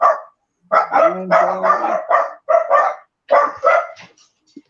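Dogs bark in quick, close bursts, several loud woofs in clusters with short pauses between, and a brief spoken word at the start.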